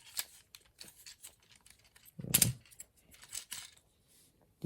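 Plastic limbs of a Transformers War For Cybertron Earthrise Megatron toy figure click and snap as the legs are pulled out, a few soft ticks followed by one louder ratcheting click, close and quiet.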